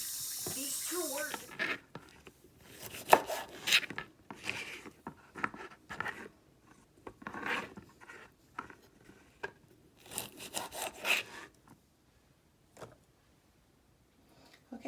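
Knife chopping fresh green beans on a cutting board, a run of sharp crunchy cuts in uneven bursts, close and fairly loud, fading out near the end.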